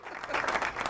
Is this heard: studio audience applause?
yes